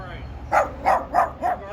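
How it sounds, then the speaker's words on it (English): Four short, evenly spaced barks from a guard dog, fairly close and loud, with a steady low hum of ambient noise underneath. "There's the guard dog. Be nice."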